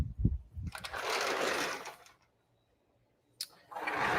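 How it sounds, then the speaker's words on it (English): A small tile cutting machine runs in loud, steady bursts, starting up, cutting for about a second and a half, cutting out to silence, then whining up again near the end. "Here's my little tile machine."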